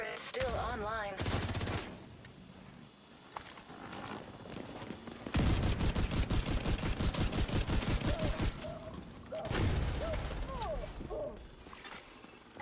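Automated turrets fire in The Division 2 video game, rattling off rapid bursts of gunfire with quieter stretches between them, the longest volley in the middle and another near the end.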